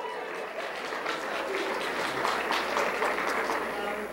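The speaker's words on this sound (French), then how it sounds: "Je pensais jamais qu'on m'applaudirait parce que j'ai fait du lavage" Steady applause from a small crowd for a man who did the laundry alone for the first time in 27 years of marriage, dense clapping that holds at an even level throughout.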